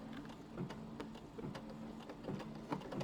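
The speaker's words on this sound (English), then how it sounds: "It's going to do these little decorative stitches and a tack down line for this one." A home embroidery machine stitches decorative patterns and a tack-down line on a quilt block, its needle tapping in a fast, steady mechanical rhythm with small bursts, close and continuous throughout.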